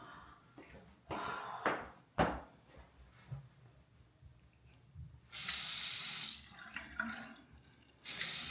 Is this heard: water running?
yes